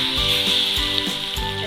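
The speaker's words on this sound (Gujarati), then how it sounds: "હવે આ જે વઘાર આપણે આ બેટરમાં નાખી દઈએ" Mustard seeds and cumin tempered in hot oil are poured into wheat-flour pancake batter, giving a loud, steady crackling sizzle from start to finish with no talk.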